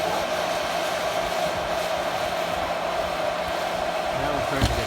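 A popcorn air popper roasting coffee beans roars with a steady, loud blowing rush of hot air that stays constant throughout, with a faint tap near the end.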